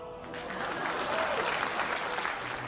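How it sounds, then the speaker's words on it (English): A live-stream audience breaks into steady, dense applause, holding a fairly loud, even level for a few seconds with no one speaking over it. "Everybody, please clap for Mila."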